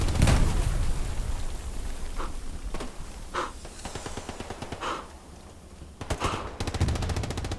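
Explosions and gunfire in a competitive video game match as satchel charges go off against a tank: rapid bursts of shots and sharp blasts repeat through the clip, loud and close, with a dense rattling stretch at the end.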